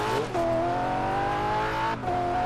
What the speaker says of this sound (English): I'm loving the sound of the engine, and it has decent acceleration